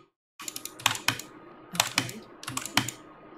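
Rapid computer keyboard keystrokes and mouse clicks from a StarCraft 2 match, coming in three quick, clattering bursts with short pauses between them, close and crisp, with no talking.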